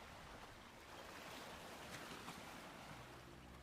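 Gentle ocean surf rolls in as a constant, full wash of water noise with a soft wind rush, steady and unbroken, with no one speaking.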